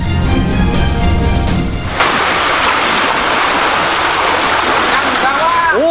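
Rushing flood river current carrying debris and scattered cardboard food boxes during flooding in Cirebon, a loud steady broadband wash of water filling the whole stretch, with a brief harmonic tone early on.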